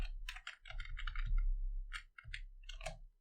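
Typing on a computer keyboard while entering an HTML form label: quick clusters of close, crisp key clicks with brief gaps, heard alone.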